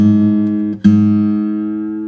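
Two guitar strings sounding together in the fifth fret tuning method, a loud sustained tone that briefly cuts out, then rings again and slowly decays.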